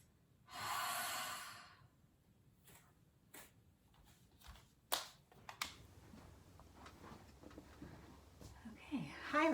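A single long exhale through the mouth during a yoga practice, soft and breathy, rising quickly and fading over about a second, followed by quiet rustles and small clicks.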